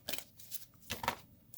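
Tarot cards being shuffled by hand, a deck that is stiff and hard to shuffle, heard as a few short riffling bursts, close and quiet.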